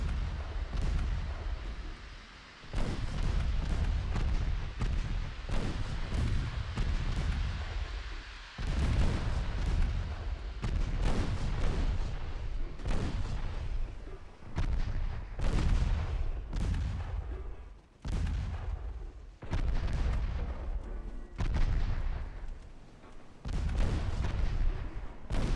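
Naval gunfire from warships in Ultimate Admiral Dreadnoughts, heavy booming salvos at irregular intervals, each a loud broadband blast that decays into rumbling echo, repeating about a dozen times with no talk.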